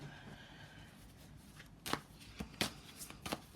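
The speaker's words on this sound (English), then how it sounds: "So one more split of the deck." A tarot deck is split and shuffled by hand, soft riffling followed by several sharp, quick card snaps and flutters close by in a quiet room.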